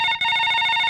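Telephone ringback tone after redialing a number, a steady electronic ring with a brief dip near the start, loud and alone with no talk.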